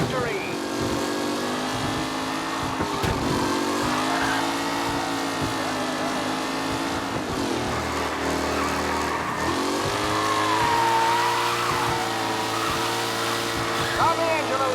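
Race cars from Mafia Remastered run on a track in a game, engines droning and shifting pitch continuously with revving and tire noise, while an announcer talks over them.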